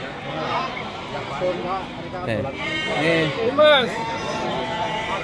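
Several sheep at a livestock market bleat repeatedly, some close and loud, others further off, over steady crowd noise and people talking.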